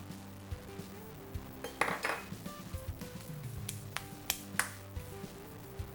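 Chopped vegan mozzarella and parsley are folded into a dense, heavy filling, giving quiet scattered clinks and scrapes of a utensil against a bowl.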